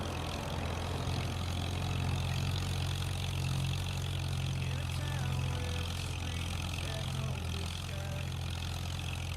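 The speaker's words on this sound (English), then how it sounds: "Nice light little tractor" A light little old 1962 tractor engine drones steadily in a field, a continuous near low rumble with a faint voice speaking over it.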